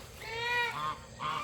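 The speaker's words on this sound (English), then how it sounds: "That is a big baby goose." A young goose in a bird yard gives two or three close honks, the first drawn out and the others shorter, loud and clear against quiet outdoor background.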